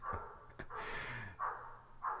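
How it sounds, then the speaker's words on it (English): A dog barks a few times at a distance, muffled single woofs spaced apart in an otherwise quiet room. "do you hear that dog?"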